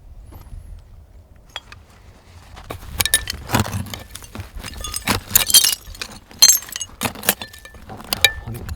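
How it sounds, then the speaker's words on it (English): Broken glass clinking and scraping during a dig for old bottles in a Midwest farm field, with scattered sharp clinks and rattles of shards that grow busier and louder partway through. "Broken glass up in here."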